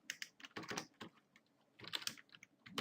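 Fast typing of code on a computer keyboard, close and crisp, with clusters of rapid keystrokes broken by brief pauses.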